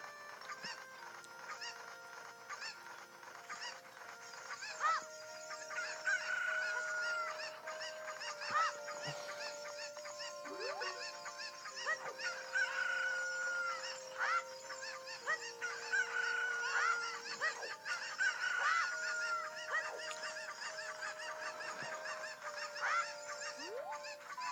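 Cuckoo chickens cluck and squawk in Zelda: Ocarina of Time 3D, with repeated honking, goose-like calls sounding over steady game music and ambience throughout.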